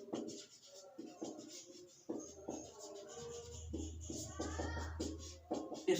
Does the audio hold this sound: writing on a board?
yes